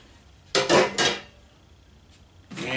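Metal cookware, including a cast iron skillet and stainless steel, aluminum and copper pans, clanks and scrapes as it is set down, two loud close bursts then a quieter knock and another clatter.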